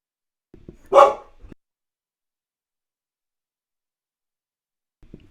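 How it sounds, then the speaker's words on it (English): A dog gives one brief, moderately loud bark with a short yip beside it indoors, then quiet follows. "The dog's going to be nuts."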